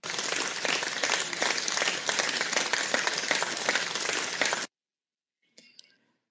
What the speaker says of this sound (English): let me give another round of applause to Suna and whoever he's with in the council, Tobias and the other different councils.